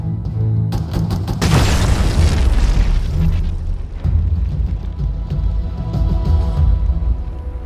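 A comms array explodes in the Halo video game: a sharp blast hits after a brief buildup, then a long rumbling roar and crackling debris decay for several seconds.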